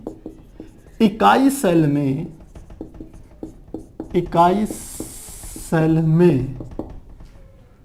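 Marker or chalk writing on a board during a Class 12 chemistry lecture on the solid state, short rapid scratchy strokes close by, partly under someone speaking Hindi.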